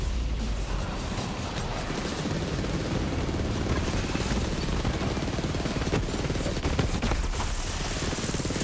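Continuous automatic weapon fire in the Borderlands 3 video game, a dense unbroken stream of rapid shots with scattered impacts, moderately loud and steady throughout.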